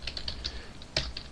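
Quiet, rapid keystrokes clatter on a computer keyboard, a dozen or so light clicks in an uneven rhythm, close and faint with no voice.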